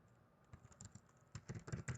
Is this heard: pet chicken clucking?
no